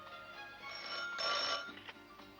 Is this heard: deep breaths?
no